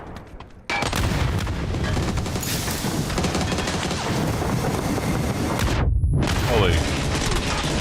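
Rapid shotgun blasts fired in a video game crash together in a loud, dense barrage that runs almost without pause, broken only by a brief gap near the end, with a voice exclaiming over it.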